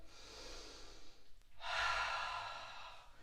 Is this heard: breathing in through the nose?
yes